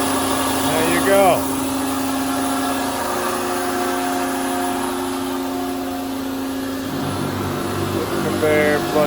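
A rebuilt year-2000 Tsune TK5c-101GL machine runs with its conveyor and flood coolant going, a steady loud mechanical whir with a constant high whine and brief clanks near the start and end.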